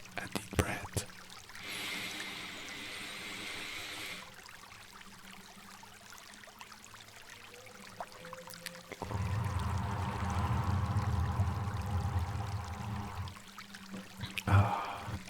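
River water flowing in a natural setting, with a steady rushing wash that comes in strongly partway through and runs alongside softer earlier sounds, moderately close, with a voice speaking at times.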